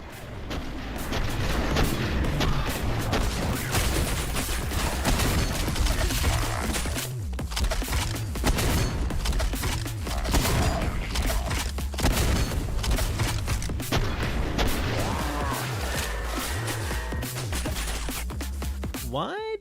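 Rapid gunfire and booming blasts from the SPRAWL first-person shooter game play continuously and loudly, dense and overlapping throughout, with brief lulls around the middle.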